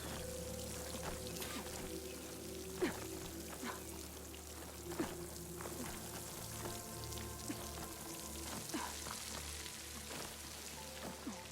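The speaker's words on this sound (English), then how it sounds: "The water's flowing into the wall." In the video game Horizon Forbidden West, water pours and trickles steadily into a rock wall near a waterfall, a soft continuous splashing with scattered drips and faint game ambience, no talking.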